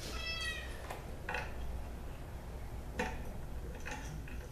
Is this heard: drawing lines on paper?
no